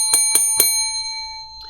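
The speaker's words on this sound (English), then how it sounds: "I am going to hit the bell every time you guys do a donation" During a live stream, a small desk bell is struck three times in quick succession, each a bright, ringing ding whose clear tone hangs and slowly fades after the last strike, with faint low rumble beneath.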